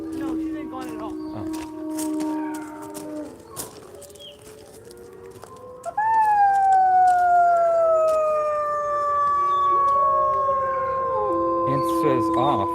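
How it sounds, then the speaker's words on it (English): Canids at an exotic animal rescue howl in long, wavering, overlapping tones that rise sharply and hold loud and near, over background chatter and outdoor noise. "We're gonna start a howl for you."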